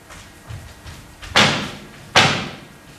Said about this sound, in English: Whence is that knocking?